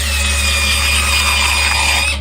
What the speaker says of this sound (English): They drill into your tooth